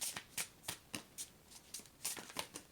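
Tarot-style cards are shuffled and drawn by hand, a series of quick soft riffling swishes at a steady pace, close and faint.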